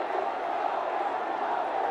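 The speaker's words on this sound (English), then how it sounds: "The huge roar from the crowd." A large crowd at Arun Jaitley Stadium in New Delhi roars at a Ranji Trophy cricket match between Railways and Delhi, a steady, loud, broad wash of noise with no single voice standing out.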